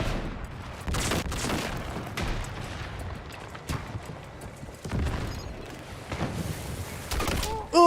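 Gunfire in the video game Battlefield 6, with sharp bursts and scattered shots rising out of a busy battlefield din and several loud cracks spaced through the scene.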